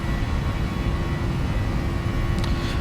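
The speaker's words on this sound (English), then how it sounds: "Takeoff power set." Airplane engines at takeoff power, likely from a flight simulator: a steady, loud broadband roar with a constant tonal hum that holds without letup, with no talking over it.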